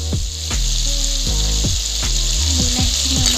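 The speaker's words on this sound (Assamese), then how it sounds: "এতিয়া মই গোটেইখিনি তেলতে দি দিম এনেকৈ বিলাহী আদা নহৰু এনেকৈ দি দিম তেলতে অকণমান দেৰি ভাজি থাকিম" Tomato, ginger and garlic hit hot oil and fry with a loud, steady sizzle, while a spoon or spatula scrapes and stirs the pan in repeated strokes close by.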